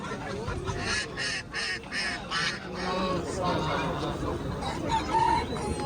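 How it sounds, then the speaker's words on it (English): A large goose honks and calls in a series of loud, close bursts early on, then softer clucks and scattered calls continue over a noisy outdoor background. "Look at this goose, a noble traveler of sky and water."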